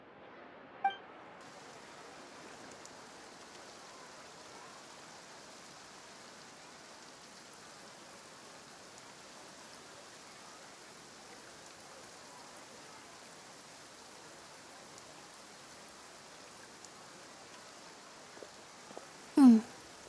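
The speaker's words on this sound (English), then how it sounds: "Looks like rain." Rain falling in the video game Genshin Impact, a faint, even patter that continues throughout, broken by a soft clink near the start and a couple of brief louder knocks at the end.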